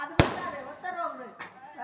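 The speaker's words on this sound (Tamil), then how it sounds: "படபடன்னு எப்படி வெடிக்குது பாரு" A single sharp firecracker crack bursts near the start, loud and close, followed by a fainter second pop, with people's voices talking in the background at an outdoor village festival.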